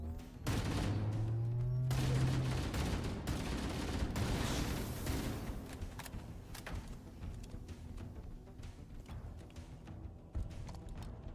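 Shotgun blasts and other gunfire in the video game Halo: Campaign Evolved, a dense continuous barrage of loud repeated shots with game effects, steady throughout.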